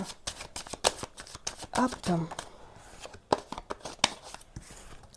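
Tarot cards shuffled in repeated quick riffling bursts, close and fairly quiet, with a brief spoken word partway through.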